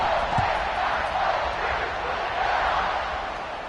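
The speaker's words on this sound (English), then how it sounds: "this crowd is buzzing after that last score" A football stadium crowd at an Ohio State versus Purdue game roars in a broad, continuous buzz just after a score, loud and sustained with a slight swell, while commentators talk over it.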